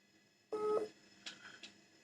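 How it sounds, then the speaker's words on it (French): A telephone sounds a short electronic tone, then two brief fainter chirps follow in quick succession against a quiet room. "Le téléphone ne fait que sonner"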